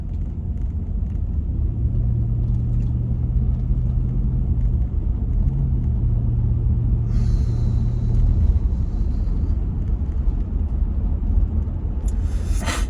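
Steady low engine rumble and road noise fill the cabin of a moving car, heard from inside and continuous throughout, with a brief higher hiss late on and no talking.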